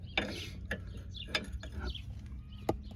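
Ratchet wrench clicking in short separate bursts while loosening a ball joint on a 1999 Chevrolet Suburban, close and fairly quiet, with a few sharp metallic ticks standing out above a low background rumble.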